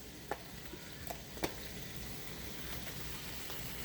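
Shrimp frying in a pan make a steady, even sizzle that runs the whole time, with a few light clicks of a utensil early on, close and not loud, with no voices.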